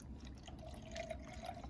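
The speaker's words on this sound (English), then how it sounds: "We're going to pour it into this clear bottle" Vinegar poured into a clear glass bottle, a faint, steady liquid trickle with a thin filling tone that rises slightly, close and quiet throughout.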